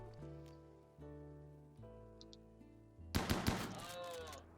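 Gunfire in the colony-building video game Rimworld, a short burst of sharp shots over a droning game music bed, clustered in the last second and a half.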